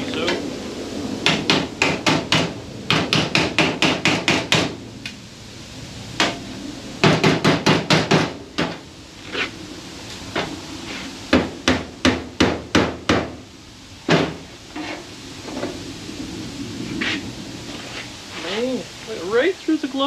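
A hammer strikes a metal piece on a 1957 Chevy Belair to flatten it, landing loud, close blows in rapid bursts with short pauses between them, then slower scattered hits toward the end.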